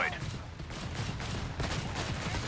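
Rapid gunfire bursts crackle from small-arms units in the real-time strategy game Company of Heroes 3, dense and continuous under a commentator's speech.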